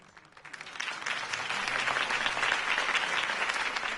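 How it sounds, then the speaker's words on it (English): Applause from a large crowd rises quickly and holds as a dense, sustained wash of clapping. "could have heard that applause"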